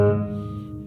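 Piano sounding an octave from Maple Leaf Rag, a single struck E flat octave that rings and slowly decays, close and clear with no talking.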